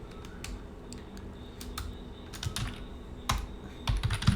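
Soft, close keystrokes on a computer keyboard tap in irregular bursts while VBA code is typed, the clicks growing denser and louder toward the end.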